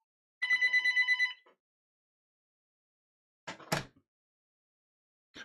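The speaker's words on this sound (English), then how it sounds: "phone starts ringing like a bunch of garbage" A telephone rings in one long burst of repeated bell trills, then goes quiet before two shorter, harsher bursts of sound follow; no talking.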